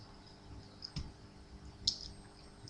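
A computer mouse is right-clicked in Windows Server, two faint, brief clicks heard close over a low steady hum.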